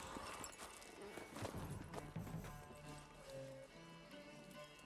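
A griffin tears into and eats a horse in the Witcher 3 video game, with hoof clatter, chaotic thumps and creature sounds, and a voice speaks over part of it.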